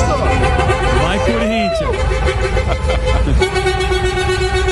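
Cars and trucks honking on a busy Brazilian street during a horn poll, with several overlapping horn blasts, including a long sustained toot, over traffic noise and crowd chatter.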